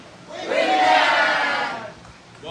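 A conference audience at a real estate event lets out one big, loud collective scream of a name, swelling quickly to a peak and fading after about a second and a half.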